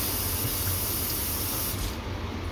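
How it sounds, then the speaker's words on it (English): An oven preheating to 425 degrees gives off a steady, close airy hiss like rushing air or a fan, with no talking. "That is the oven being preheated."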